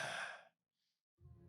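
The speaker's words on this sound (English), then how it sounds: "You begin to hear breathing" Breathing sound effect in a tabletop role-playing game session, a single breathy exhale or sigh fading into silence, followed by a low murmuring voice-like sound starting at the end.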